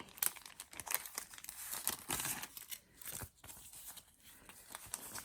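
Plastic packaging crinkles and tears as a Daiso item is opened up close, a quiet run of irregular rustles and sharp crackles.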